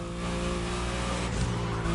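A powerful Mercedes engine roars in the racing game The Crew Motorfest, loud and steady with a rising rev near the middle, dense and close with no voices.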